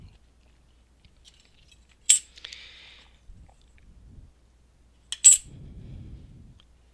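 Excess polymer clay trimmed away with a blade, two sharp metallic clicks a few seconds apart with faint scraping and soft handling noises in between, close and otherwise quiet.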